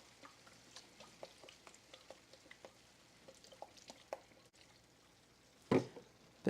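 Onions, carrots and zucchini squash stir-fry in a pan with soy sauce, a quiet crackling patter of small pops, close, ending with a louder clatter.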